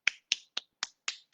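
Six sharp, dry percussive slaps of cupped hands striking down the back of the arm, spaced evenly about a quarter second apart, close and alone with no talk.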